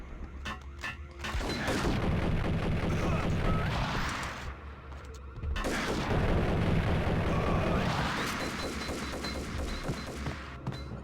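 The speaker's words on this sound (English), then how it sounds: "Someone's still shooting at me." Heavy gunfire rattles through a Max Payne video game shootout, dense bursts of shots and crashes in two long loud volleys with a brief lull between them.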